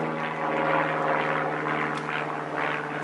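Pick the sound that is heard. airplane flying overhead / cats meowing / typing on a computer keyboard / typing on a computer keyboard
airplane flying overhead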